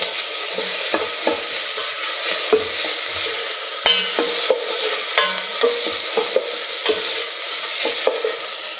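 Garlic cloves sizzling in a hot pan with steady frying hiss, broken by repeated scrapes and taps of a utensil stirring them, close and fairly loud, no voices.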